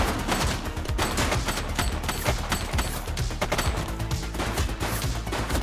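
Gunfire in The Precinct, a police video game: rapid, dense bursts of shots crackling almost continuously, loud and close, with no pauses long enough for quiet.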